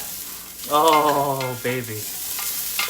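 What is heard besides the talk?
ginger frying in a pan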